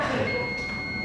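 A multitester's continuity beep while testing a burnt TOA loudspeaker: a steady, high electronic tone held without a break for about a second over faint background noise.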